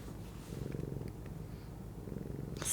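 A contented house cat purrs steadily up close, a low continuous rumbling with a gentle pulsing rhythm, heard alone without talk.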